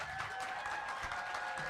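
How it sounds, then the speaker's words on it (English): A studio audience applauds an indie band after a live performance in the PNC Live Studio, a faint, steady patter of clapping that fades gradually. "Are you done clapping for them yet?"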